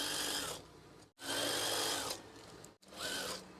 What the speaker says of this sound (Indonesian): Jahit lagi.